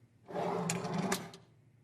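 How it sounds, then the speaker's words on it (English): A wooden desk drawer slides open in one smooth rumbling pull lasting about a second, close and fairly loud, ending with a couple of light knocks before fading to quiet. "I opened each drawer in the desk, one by one."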